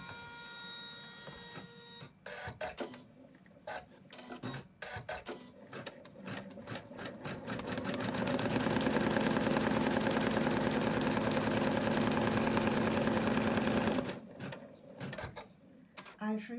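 An embroidery machine stitches a placement line on medium tearaway stabilizer clamped in a hoop, starting with short bursts of clicking, then whirring steadily and rapidly for several seconds before slowing back to intermittent clicks.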